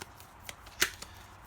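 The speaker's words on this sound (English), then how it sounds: "Take the project cards and shuffle them." Project cards for the TINYforming Mars board game are shuffled by hand in a few quick riffling bursts, with one crisp louder snap near the middle and soft papery rustles around it.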